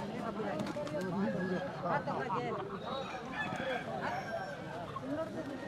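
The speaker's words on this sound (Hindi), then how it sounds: "इस प्रकार से यहाँ पर मुर्गों की लड़ाई होती है" Roosters fight in a cockfight in Bastar, with close, harsh squawks and honking bird cries mixed into a busy crowd of people talking and shouting throughout.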